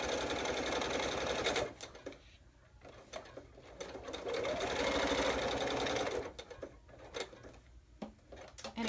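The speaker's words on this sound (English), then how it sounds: "if you're just going to do this simple little basic sewing, an inexpensive machine is fine" An inexpensive home sewing machine stitches in two steady rapid runs, each a few seconds long and close by. Quieter gaps between them carry light clicks and handling noise.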